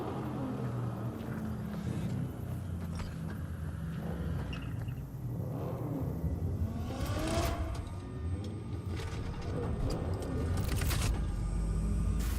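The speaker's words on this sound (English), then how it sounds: "Start your engines, folks." Car engines rumble and rev in Cyberpunk 2077, a low continuous drone with several surges and passing swells, moderately loud with no speech.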